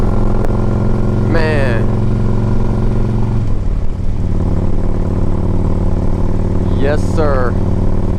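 A 2008 Harley-Davidson Ultra Classic 105th Anniversary motorcycle rumbles steadily on a test ride, its deep engine note running continuously while someone speaks briefly twice over it.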